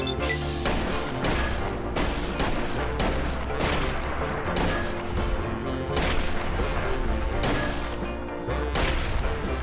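Repeated gunfire from a .45 caliber auto pistol in Fallout: New Vegas, sharp shots landing every half second or so over a steady low rumble of game ambience, loud and close throughout.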